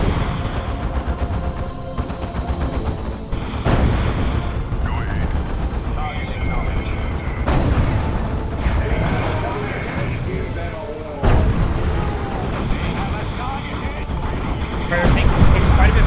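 Gunfire, shotgun blasts and explosions crackle through a Dawn of War 2 battle, coming in dense repeated bursts with a vehicle under heavy fire. Game sounds are loud and layered.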